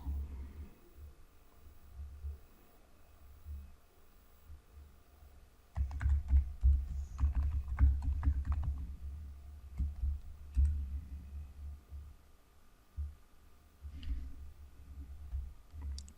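Keys on a computer keyboard are typed in quick, close bursts of clicks, starting soft and sparse, then growing louder and denser before trailing off into scattered taps.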